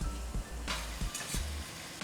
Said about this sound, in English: Stir-fried spring onions.